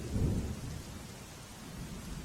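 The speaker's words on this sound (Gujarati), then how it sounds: "વડોદરા શહેરમાં ભારે વરસાદના કારણે પાણી ભરાઈ ગયા છે" Heavy rain over Vadodara city opens with a low, rolling rumble of thunder, then settles into a continuous wash of falling rain, fairly quiet and distant, with no talking.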